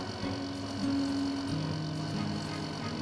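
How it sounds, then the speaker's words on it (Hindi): A second-hand air conditioner in a village house switches on and settles into a steady electrical hum, with a sustained low whining tone that rises in and shifts pitch. It sounds close, with no talking. "एसी थोड़ी आवाज करते हुए चालू हो जाता है।"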